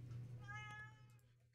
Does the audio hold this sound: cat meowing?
yes